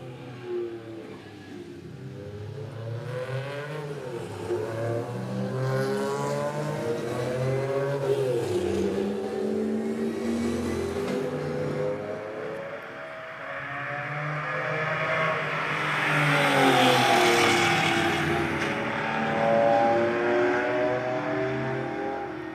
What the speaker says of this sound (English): you can see race and rally cars there of the era that we're talking about, historic motorsports